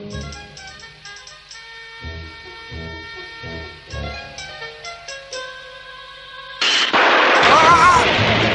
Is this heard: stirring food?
no